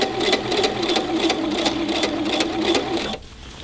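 A sewing machine runs a top stitch along a waistband, a close, steady mechanical whir with a fast needle rhythm that stops abruptly near the end.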